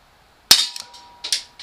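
An Umarex Walther P38 CO2 blowback BB pistol fires a single sharp, loud crack with a metallic slide clatter, followed by a couple of smaller mechanical clicks, close up on a tabletop.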